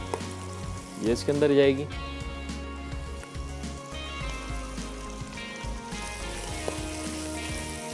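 Chopped carrots sizzle steadily in hot oil for a mutton pulao, a continuous close frying hiss with brief stirring clatter, while someone talks over it.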